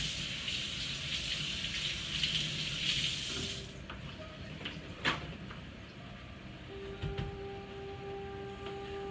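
Tap water runs into a kitchen sink to rinse a bunch of fresh dill, a steady close rush for a few seconds that then shuts off, leaving quieter clinks and handling noises.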